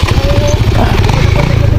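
Motorcycle engine running close by with a steady low rumble and some clatter, heard during a confrontation on a street as the bike is taken away, with people shouting and talking over it.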